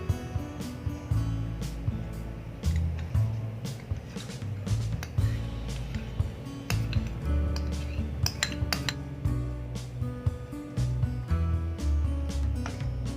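Spoon or utensil clinks rapidly against a bowl while all-purpose cream and condensed milk are stirred together for chocolate ice cream, a busy, close series of metallic taps and scrapes with no talking.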